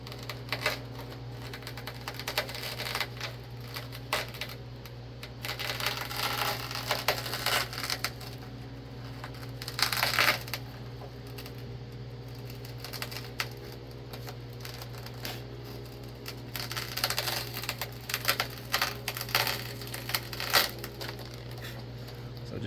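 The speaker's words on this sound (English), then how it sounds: "Now when you do this, you're gonna have glass popping out everywhere, and you'll eventually end up with glass between your blade and the urethane" A razor blade scrapes and cuts through urethane around the broken rear hatch glass of a 2007-2014 Ford Edge, with irregular crunching, clicking and small glass pieces popping loose over a steady low hum.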